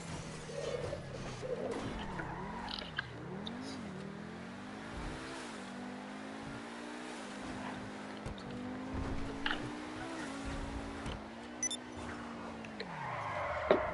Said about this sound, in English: as you can tell, there's a little bit of an engine sounding different